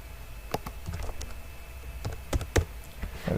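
Irregular typing on a computer keyboard as a name is entered, with scattered, sharp key taps close by, clustering near the end, over a low background hiss.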